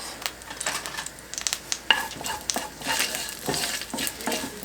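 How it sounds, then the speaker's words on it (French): Garlic frying in oil in a pan, with a steady low sizzle broken by sharp clicks and scrapes as the pieces are stirred and a utensil taps the pan. "Donc on va ajouter l'ail pour faire parfumer un petit peu, on va le faire revenir juste une petite minute pour qu'il parfume un peu l'huile qu'il y a dedans."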